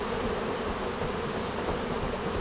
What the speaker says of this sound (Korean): 주로 20-30m 이상의 높은 나무에 집을 짓는 인도네시아의 꿀벌